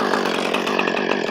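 A chainsaw runs steadily at close range, its buzzing engine drone holding loud and even without a break.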